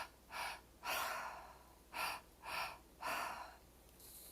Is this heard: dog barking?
no